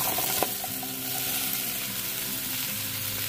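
Onions and mushrooms frying in olive oil in a pan give off a steady, close sizzle with a brief clack of stirring near the start.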